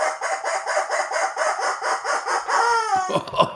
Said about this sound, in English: And the rubber chicken says,